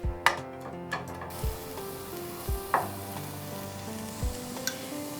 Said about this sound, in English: we are going to fry little onion, finely chopped garlic